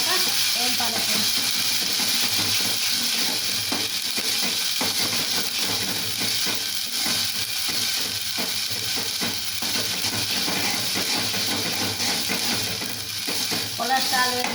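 Ginger frying in oil in a pan while being stirred, a steady loud sizzle with scraping clatter throughout, cooked on low oil.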